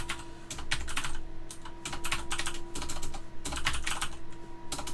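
Fingers type on a computer keyboard in quick, uneven bursts of clicking keys, close and clear, with short pauses between flurries over a faint steady hum and no speech.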